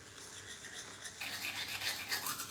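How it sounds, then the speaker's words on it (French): Toothbrush bristles scrubbing teeth in close, steady back-and-forth strokes, soft and bristly, growing brighter and more vigorous partway through, with no talking. "Voilà comment on se brosse les dents, mes étoiles."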